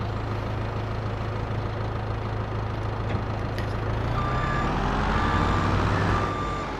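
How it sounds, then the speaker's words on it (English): Diesel truck in Farming Simulator 22 reversing on a farm, a steady low engine idle droning throughout with a repeating high reversing beep joining partway through, loud and close. "Diesel truck."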